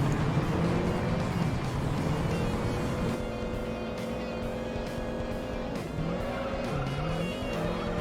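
A car racing in the Pinto race of the Juiced racing game, with a loud, steady engine roar rising and falling through gear changes and occasional tire squeal, and no talking.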